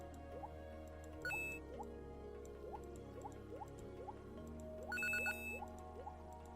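Underwater swimming in the video game Snowball Saves Summer: steady bubbly, dripping tones rise in a repeating pattern over a low watery hum, with brief brighter chimes twice, no talking.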